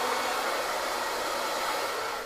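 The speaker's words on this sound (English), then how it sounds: "I'll hit it with the blow dryer." Blow dryer drying hair during a green mohawk haircut, a loud, continuous close-up whoosh of steady airflow and motor hum that holds constant throughout, with no talking.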